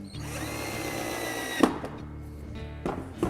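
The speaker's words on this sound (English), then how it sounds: "We'll just start that screw off with a screwdriver and then I can use the electric screwdriver to bring it home." An electric screwdriver whirs steadily as it drives a screw home to secure plastic guttering, followed by a sharp knock and a few lighter taps as the motor stops.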